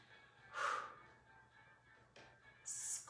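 Breathy exhales during resistance band rows: a strong, close puff of air followed by two softer breaths, rising and falling in a steady workout rhythm with no talking.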